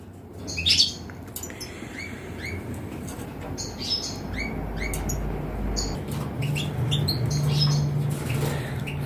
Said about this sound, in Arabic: والذكر كيمشي في العش وكيصدر النداءات ديال التزاوج